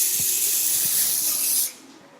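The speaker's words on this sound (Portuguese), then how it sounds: "Passa o spray." Hair spray hisses in one steady, close, continuous burst onto the lengths and ends of hair in a salon treatment, lasting about a second and a half before cutting off into quiet room tone.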